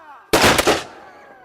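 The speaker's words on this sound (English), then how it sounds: "And the gun is now loaded. What we do now is we point it at the target." A matchlock musket fires a single loud, sharp blast at close range outdoors at a Tudor picnic, followed by a brief rumbling decay.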